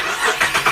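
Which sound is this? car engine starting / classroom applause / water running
car engine starting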